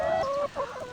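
Lohmann Brown hens clucking close by in a hen house, a steady run of overlapping calls with a brief lull midway before the clucking resumes.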